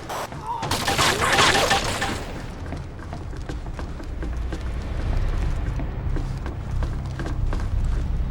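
Gunfire erupts in the Rainbow Six 3 Black Arrow video game: a burst of overlapping shots and shattering crashes in the first two seconds, then a steady rumble with scattered sharp cracks continuing to the end.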